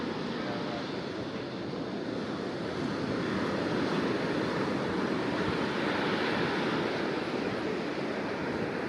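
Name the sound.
sea waves on Varkala beach, Kerala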